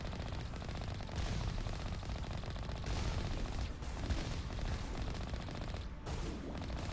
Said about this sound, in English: Wow, they're really shooting me really bad.